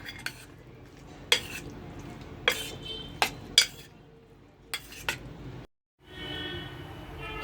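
A spoon stirs a marinade of yogurt, ginger garlic paste and chili powder for soybean tikka, giving sharp scattered clinks against the bowl over a low background hum.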